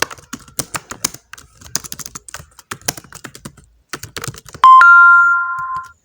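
Rapid typing on a computer keyboard, close and crisp, in uneven bursts of clicks, followed by a sustained bright electronic chime near the end.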